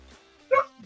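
Willow, a dog guarding a puppy, gives one short protective bark indoors, a brief loud burst standing alone after quiet room tone, with a faint murmur at either end.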